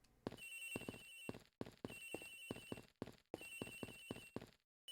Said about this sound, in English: Agent Hicks's phone! It's ringing from somewhere, sir.